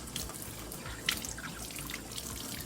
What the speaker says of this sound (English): what I'm doing is I'm literally just rinsing her legs in the water